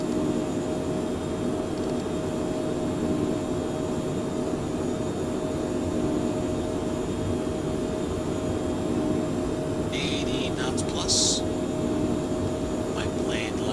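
Airliner engines at takeoff power in a flight simulator game, a steady, loud jet roar that holds throughout, with a few brief higher clicks or tones near the end.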